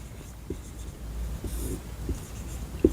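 A teacher writes on a board during a Class 10 trigonometry lesson, giving a few sparse taps and short scratchy strokes against a quiet room with faint background hum.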